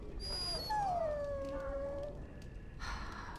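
A dog in the video game Dragon Age: Origins gives a long, high, falling whimper, near and clear over a faint background hiss, with no talking.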